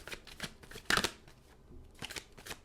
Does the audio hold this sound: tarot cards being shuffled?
yes